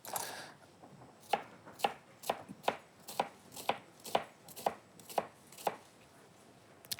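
A kitchen knife chops onions on a board in a steady series of about a dozen sharp, close taps, evenly spaced and alone.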